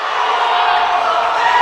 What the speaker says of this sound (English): Crowd not happy with that.